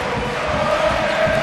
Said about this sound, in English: Crowd getting into it here inside the Magic box